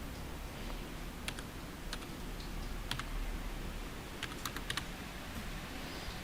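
Computer keyboard keys tapped to enter a verification code, scattered crisp clicks in small bursts over a steady background hiss, fairly close and moderately quiet.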